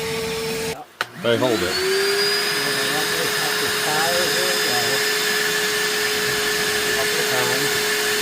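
A vacuum cleaner draws debris out of a PelPro PP130 pellet stove, its steady high whine running close and loud after a brief bump at the start, with a few spoken words over it.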